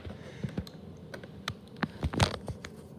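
A box cutter slices through packing tape on a LEGO Ideas Dinosaur Fossils set box, a series of short, close scratchy cuts and clicks ending in a louder ripping slice.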